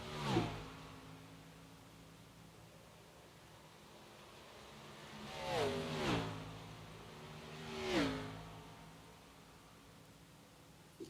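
Xfinity Series race cars scream past on the Dover track in separate whooshing pass-bys: one near the start, then two close together, then another, each with a falling engine pitch, heard from a moderate distance over a quiet hiss with no talk.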